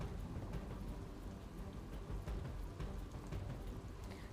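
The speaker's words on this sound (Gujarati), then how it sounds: "સુરેન્દ્રનગર જિલ્લાની અંદર કાલે રાતથી ધોધમાર વરસાદ વરસી રહ્યો છે" Heavy rain pours steadily over Surendranagar with low rumbling thunder underneath, a dense continuous downpour heard at moderate level with no voices.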